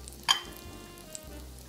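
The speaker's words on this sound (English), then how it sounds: "keep an eye on them because they'll fry a lot quicker than the apples that are sliced a little thicker" Thin apple slices fry in a pan with a low steady sizzle, broken by one sharp clink near the start and a soft tap later.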